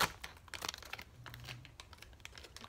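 Soft, squishy air-dry modeling clay being torn apart by hand, a quiet series of sticky crinkling rips and small crunches, close and faint.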